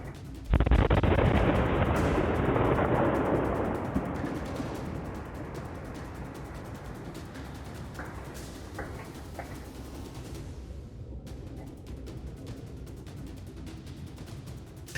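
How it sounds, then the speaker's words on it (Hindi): A single heavy bomb blast in Kashmir bursts out abruptly, then a long rumbling roar decays slowly into a steady noisy wash for many seconds. "अब आपको हम इस वीडियो की उस आवाज को सुनवाते हैं जो धमाके के वक्त सुनी गई।"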